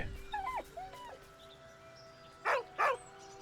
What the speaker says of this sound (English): With a deep, heartbroken whine, the dog bows his head.